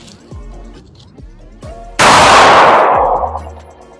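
Canik TP9 Elite SC 9mm pistol firing, a few sharp close shots with short gaps between them, the last one ringing out loud with a long decaying tail.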